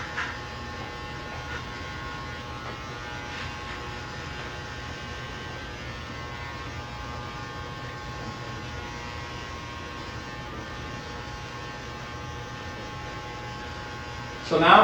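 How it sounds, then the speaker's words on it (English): An electric shaver hums steadily and evenly at a barbershop, cleaning off a haircut line, with a constant close buzz over low mains-like drone and a brief louder scrape at the end. "Most of us use a shaver that we come in and we shave that line off"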